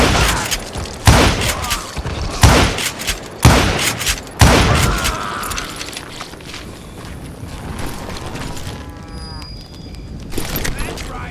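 Loud gunfire in the Western shooter video game Call of Juarez Gunslinger, with a series of heavy, booming shots and echoing blasts in the first half, then quieter scattered effects and voices talking.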